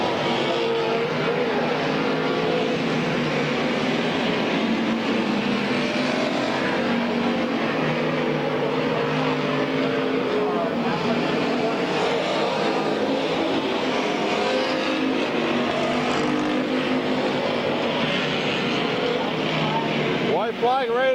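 Race cars at Midvale Speedway circle the track in a continuous dense engine roar that swells and fades as the pack passes, loud and unbroken for the whole stretch while an announcer calls the field over it.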